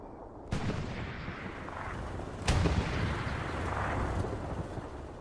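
Tank gun fire in a video game, two sharp heavy booms a couple of seconds apart over a constant low battlefield rumble, moderately distant.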